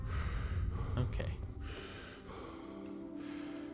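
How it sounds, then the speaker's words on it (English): Henry from Kingdom Come: Deliverance breathes heavily: a few loud ragged gasps and a sharp intake up close, then quieter breathing over a soft low hum. "Henry, just relax. Get your breathing under control."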